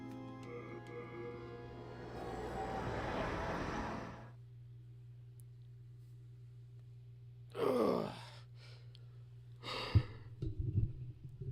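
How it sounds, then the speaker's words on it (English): A person yawns long and loud while grinding bladestones in Demon's Souls (2009), a drawn-out breathy groan over a steady low hum, then quieter breaths and small shuffling sounds. "I need to stop yawning."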